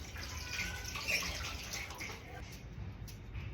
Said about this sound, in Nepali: पाकेको काँक्रो र हरियो खुर्सानीलाई राम्रोसँग पखाल्दै छु